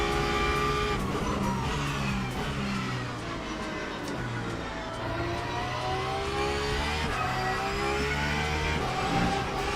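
A Porsche race car in a racing video game roars at high revs with tires skidding and squealing, engine pitch rising and falling through gear changes, loud and continuous with no talking.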